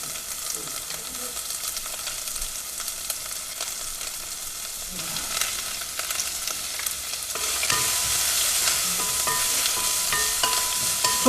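Chopped onion sautés in a hot pan, giving a steady crackling sizzle with scraping stirring strokes for over ten seconds, growing louder toward the end, with no talking.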